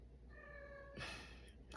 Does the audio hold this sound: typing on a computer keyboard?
no